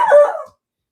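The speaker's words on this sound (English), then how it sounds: "really hope my puppy will stop barking so I can have a real train of thought" A puppy gives a single short, sharp bark that sounds close by and loud. Silence follows it.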